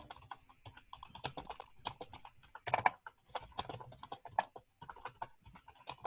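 Notes are typed on a computer keyboard in quick irregular bursts of light clicking keystrokes, close up, with brief pauses between runs.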